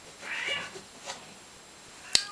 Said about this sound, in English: I'm trying to ignore the cats, but they're so loud.